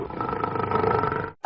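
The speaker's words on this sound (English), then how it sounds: "A lion can be loud. The lion is one of the loudest animals." A lion giving one deep, sustained roar, loud and close, lasting over a second before cutting off abruptly.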